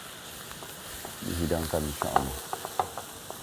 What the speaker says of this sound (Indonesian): terus kita aduk lagi